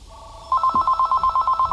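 A telephone rings in a rapid, evenly pulsed electronic trill after a brief tone, clear and close, with a faint voice under it.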